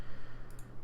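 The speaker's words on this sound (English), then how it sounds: "I'm not even gonna mention the mouse clicks because you know I can't do anything about that" A computer mouse giving two quick, faint clicks close together, over a steady background hum with no talk.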